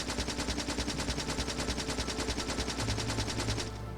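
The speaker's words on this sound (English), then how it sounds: "they will try to shoot us as we get closer. But they only have so much ammo. And we can shoot them back." Steady, rapid automatic gunfire in the Factorio game as the player and enemies exchange shots. It forms a dense, continuous rattle that stays loud and close throughout and cuts off near the end, with no talking over it.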